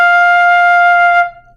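A single sustained flute note F, clear and steady, held for over a second before stopping cleanly, played alone and close.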